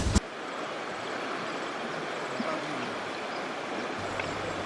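A river stream flows steadily in a rural village, a continuous broadband rush of water close by with no speech, a brief knock at the very start.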